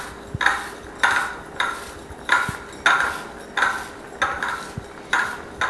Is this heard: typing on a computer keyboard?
no